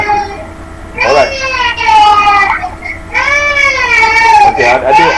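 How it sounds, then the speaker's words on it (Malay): A baby cries during an online prayer class, with loud, close wails rising and falling in two long bursts over a steady background hum. "Ustaz dengar ada suara baby menangis"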